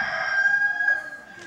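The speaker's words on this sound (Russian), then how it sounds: "Петушиным орешь ты голосом" A rooster crows in a single drawn-out, high, steady call that fades toward the end, heard alone and fairly close.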